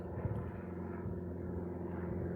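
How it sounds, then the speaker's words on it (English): A small airplane flies overhead above a hiking trail at Tettegouche, its steady propeller drone humming continuously at moderate distance, even and unbroken throughout with no talking. "Got a little plane coming over, being disturbing."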